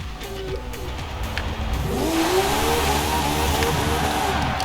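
A 1990 Porsche 911 engine in Forza Horizon 4 revs up loudly and climbs in pitch, with hints of tire squeal, close and continuous with no talking.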